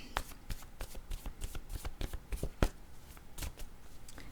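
A deck of cards is shuffled for a card reading: crisp close riffles and taps come in quick uneven bursts, with one sharp snap partway through, no talk.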